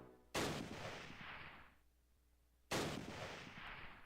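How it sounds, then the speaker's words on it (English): Two sharp, loud blasts from a mortar squad in the Close Combat war game, spaced a couple of seconds apart, each followed by a long rumbling decay with no talk. "I got a mortar squad back here, and I think they're the ones popping shots at me"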